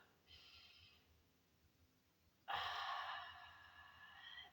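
Deep yoga breathing during a vinyasa gratitude practice: a soft, airy inhale followed by a fuller, louder breath of air, close and intimate with no talking.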